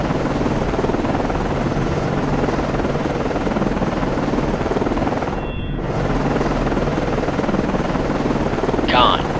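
Helicopter landing in the naval game Cold Waters aboard destroyer DDG 79: a continuous loud rotor drone, briefly dipping in the middle, with a short rising tone near the end.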